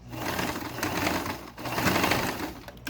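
A sewing machine stitches a strap onto an Ankara-print fabric lunch bag, its needle running in close, rapid whirring bursts with a brief pause in between.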